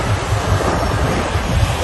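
Ocean waves wash onto a beach, a loud, close rush of surf mixed with wind noise, continuous and without voices.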